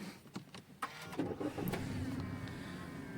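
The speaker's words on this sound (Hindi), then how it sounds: "आपको एक बार गाड़ी स्टार्ट करके दिखाता हूँ।" A Toyota Glanza hatchback starting up, with a few clicks and whirs of the system waking, then the engine catching and settling into a low, steady idle hum, heard fairly quietly from nearby.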